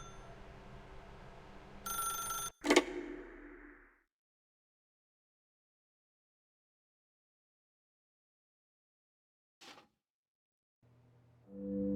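Telephone ringing in the video game The Stanley Parable: Ultra Deluxe, a single bright ring burst followed by a sharp hit, then near silence with one faint short chime and a low tone returning at the end.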